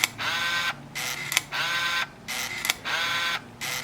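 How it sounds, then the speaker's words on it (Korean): Ricoh SR 10D film camera firing its shutter in continuous mode, producing three sustained whirring bursts of mechanical clatter, each about half a second long, separated by short gaps, close and clear with no talking. "셔터를 누르고 있으니까"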